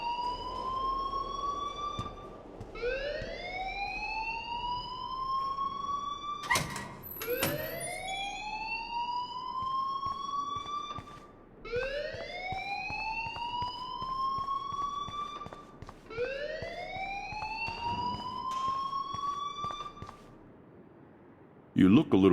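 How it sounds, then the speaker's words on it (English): A loud wailing alarm in the video game Life is Strange sweeps upward again and again, about every four seconds, with a sharp clatter partway through and a short quiet gap near the end. "please turn off that alarm since that's your job"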